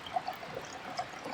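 Water trickling steadily through a HydroPack gravity-fed water filter bag, a soft continuous pour with faint drips, close and quiet, with no one speaking.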